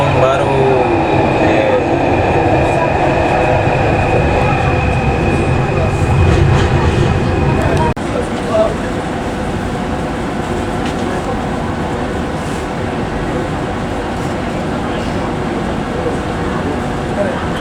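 A driverless LRT/MRT metro train running underground in Kuala Lumpur, heard from inside the carriage as a loud, continuous rail roar with whining tones and a sudden shift in texture partway through.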